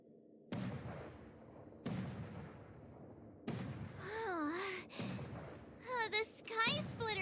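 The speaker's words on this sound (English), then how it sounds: "The Sky Splitter's gun salute is really loud." Booming gun salute from the Sky Splitter in Honkai Star Rail, with several loud reverberating blasts spaced a second or so apart, overlapped later by a character's voice.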